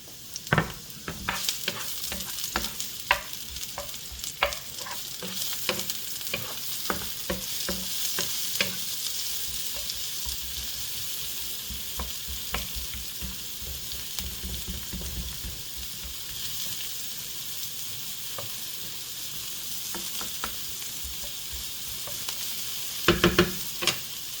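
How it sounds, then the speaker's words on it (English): Sliced onions fry in a hot pan, a continuous sizzle broken by frequent scraping and clattering stirs early on, then settling to a steady crackle, with no talking. "The onions are ready to go in the pan."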